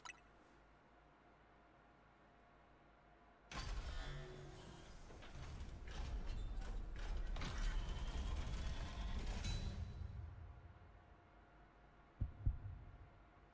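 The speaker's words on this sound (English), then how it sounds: "That heartbeat is so cool" A deep, rhythmic heartbeat-like pulsing with mechanical creaks and grinding in Pokémon Legends: Z-A, as the locks of Project M are released to free Mewtwo, swelling loudly for several seconds before fading to near silence and a final low thump.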